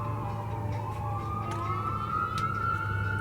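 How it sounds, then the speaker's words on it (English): An ambulance siren wails in the background while a 1998 Pontiac Firebird Ram-Air has its rear window fitted, a distant rising and falling tone passing steadily under faint workshop noise. "Get it lined up as the ambulance goes by in the background."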